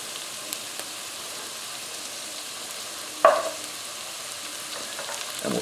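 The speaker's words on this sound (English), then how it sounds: "So with the garlic in this, you only want to cook it for a couple of minutes or it'll burn." Garlic, fennel seeds, oregano and crushed red pepper fry in a pan for a cioppino fish stew, giving a soft, steady sizzle with one sharp clink partway through and no talk.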